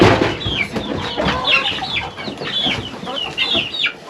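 Chickens cluck at a home compound in Kenya, a busy overlapping flock of short calls and squawks close by, continuous over steady background noise with no one speaking.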